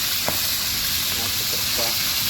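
Food frying in hot oil, a dense steady sizzle and hiss up close with a few small pops and crackles breaking through, and a faint voice in the background.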